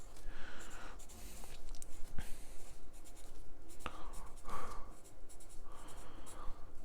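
A pen writes ferric carbonate formulas on a paper chemistry practice test, producing scratchy strokes and short taps in irregular bursts, close and fairly clear, with no talking.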